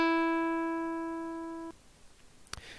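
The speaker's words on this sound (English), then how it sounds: "you get a nice little synthesized guitar plucking sound there" One synthesized plucked-guitar E note from a command-line sound program rings as a pure tone and decays gently for about 1.7 seconds before cutting off sharply. A faint click follows in the quiet afterward.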